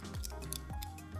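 Crisp scissor snips cut through curly artificial nail material, two or three close, quick clips with short metallic ticks between them and no talking.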